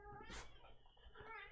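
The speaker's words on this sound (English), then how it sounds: "Don't meow at me like that." A cat named Pudding lets out a short, loud meow followed by a softer, drawn-out second cry, close and slightly strained, over a faint low background hum.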